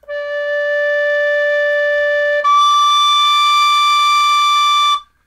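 A tin whistle, freshly adjusted for tuning, holds one steady, clear note D for about five seconds. The tone is bright and close, brightens and jumps slightly in pitch midway, and plays alone with no talking.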